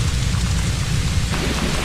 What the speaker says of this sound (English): A stormy night.